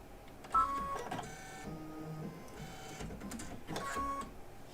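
An embroidery machine works at a quilt block, failing to thread properly: short runs of mechanical whirring and clicking with tonal motor whine, stopping and starting in bursts, close by.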